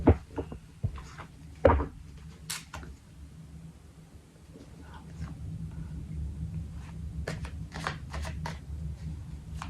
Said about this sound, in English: put the cards down